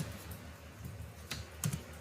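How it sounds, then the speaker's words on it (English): Typing on a computer keyboard, a short run of soft, close keystroke clicks at an irregular pace, quiet and alone. "I am typing dict dot"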